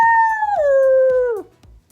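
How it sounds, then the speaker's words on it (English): A single wolf howls close and loud, a long sustained tone that slowly falls in pitch and ends after about one and a half seconds, with faint low knocks underneath. "Hey there, wolf."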